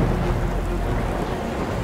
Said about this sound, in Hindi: तभी अचानक ही शुरू हुई तेज आंधी तूफान ने उसे घेर लिया